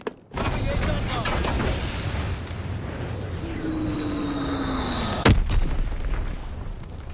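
An Azon bomb strike in Call of Duty: WWII: a steady roar with a falling whistle, broken by one sharp, loud blast near the end.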